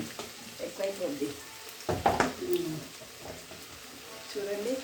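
Fresh chilli powder stirred into a tomato and urad dal curry frying in a pan, a soft sizzle with scraping stirring strokes, under a voice speaking close by.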